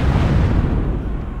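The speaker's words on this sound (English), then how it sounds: "The cannon shots go through" Cannon fire in a Thirty Years' War battle game at Nördlingen, a loud, dense booming rumble that fills the whole moment with heavy low-end blast and no speech.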